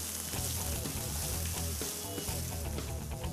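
Chopped green chilies frying with onion in hot oil, a steady dense sizzle with faint stirring clatter, continuous and close throughout.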